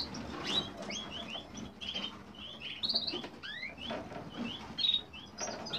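Canaries at a breeding aviary chirping, a busy stream of high, quick chirps and short whistled notes, fairly close, with soft rustling and pattering underneath and no talk.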